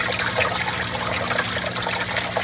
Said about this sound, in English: turned on the water to the fish tanks, opened up the drain valves